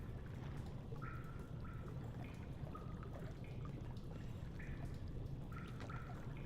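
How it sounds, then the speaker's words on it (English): Steady flowing water pours and trickles at a water mill in Amnesia: The Dark Descent, a continuous low wash with faint drips on top, moderately quiet and without speech. "Oh, the water mill that controls all the water."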